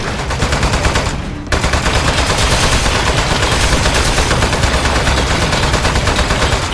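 Rapid sustained turret gunfire in the video game Aperture Desk Job, a loud dense machine-gun stream that drops out for a split second before resuming just as relentlessly.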